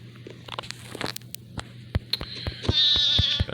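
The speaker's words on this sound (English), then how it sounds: "Crazy little goat." A goat in Minecraft Bedrock Edition gives a wavering, nasal bleat toward the end, preceded by scattered clicky footsteps and block-breaking taps.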